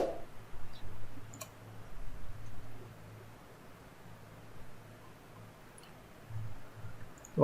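A computer mouse clicks in a quiet room during Adobe InDesign work, with a few faint, sharp double-click ticks spaced well apart over low background hum.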